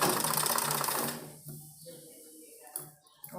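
A sewing machine stitches a baby frock for a 1–2-year-old, running in a fast steady whir for about a second before stopping, followed by faint handling and clicks.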